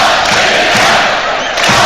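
A football stadium crowd at Latvia vs Wales chants and roars steadily, a dense, loud, continuous wall of massed voices with no break.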